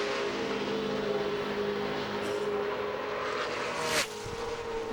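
NASCAR race car circling the track during qualifying for the 2012 VFW Sport Clips Help A Hero 200, a distant engine drone that swells and fades as it passes, with a brief sharper sweep near the end.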